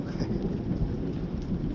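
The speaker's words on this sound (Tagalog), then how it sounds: "Kumukulog-kulog din." A low, continuous rumble of thunder over a backyard garden in Canada, steady and fairly loud throughout with a hiss like rain mixed in, no voices.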